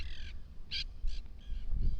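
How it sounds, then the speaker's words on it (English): Green parrots in Santa Monica, California, give loud, harsh, raspy squawks in short repeated bursts, some close and strong and others softer, over low background rumble. "These green parrots are very loud and they're all over the place."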